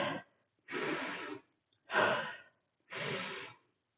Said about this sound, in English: 3 breaths.